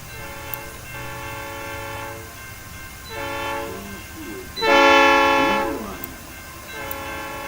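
A train in a video game rolls in and stops at a station, its horn-like tones sounding in several long sustained bursts, the loudest near the end, over a steady rumbling hum with a voice speaking briefly.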